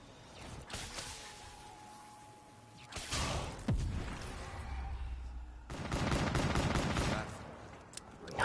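Bursts of gunfire from a Black Ops 3 Zombies match, coming in rapid clusters around the first second, at three seconds and again from about six to seven and a half seconds, with whooshing game effects between them.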